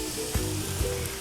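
Diced tomatoes hit a hot pan while a homemade spaghetti sauce is cooking, giving a steady, close hiss and crackle of frying that holds for the whole moment, with no speech.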